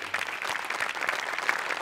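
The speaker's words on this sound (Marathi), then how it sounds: "एकदा जोरदार टाळ्या होऊन जाऊ द्या मॅडम साठी." Audience applause at a Marathi comedy show, a dense, steady burst of clapping from a crowd, close and even across the short moment.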